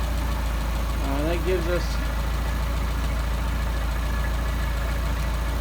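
A car engine fitted with Solex 44PHH carburetors idles at about 675 rpm, a steady low rumble throughout, loud and close, while someone talks briefly over it.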